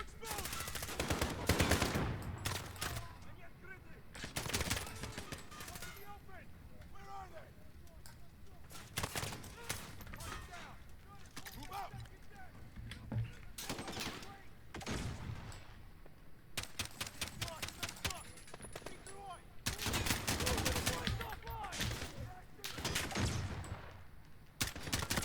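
Machine-gun nest bursts in a first-person shooter played on a high-end graphics card: repeated loud rapid-fire volleys in several clusters over roughly twenty-five seconds, with players talking over and between the gunfire.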